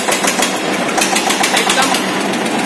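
An Eicher tractor engine running at a tractor market, with a loud, steady diesel chug and a fast, regular knocking pulse throughout.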